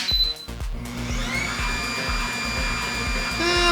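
A masticating juicer runs up close, giving a steady, loud motor whine over a regular pattern of low thumping pulses, with no voices.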